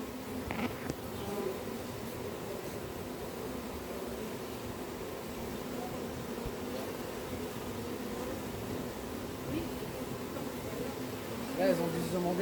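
A swarm of honeybees, shaken down from a tree, keeps up a dense continuous buzzing drone for the whole stretch, steady and close, with faint outdoor background.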